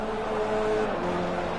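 Renault Clio Cup race car lapping Brands Hatch GP circuit, a loud sustained engine note with a steady tone that shifts pitch partway through, heard alone and close.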